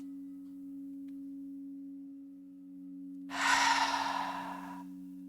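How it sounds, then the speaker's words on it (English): A single deep clearing breath during a gentle yoga session: after a quiet stretch with only a steady soft background tone, one loud, airy exhale swells up close and slowly fades. "And then maybe a few clearing breaths."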